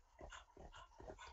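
A pet dog breathing hard beside someone, a rhythmic run of quick panting breaths in bursts about half a second apart, close and fairly faint, with no talk.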